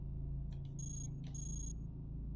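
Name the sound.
alarm trap going off in the video game Cogmind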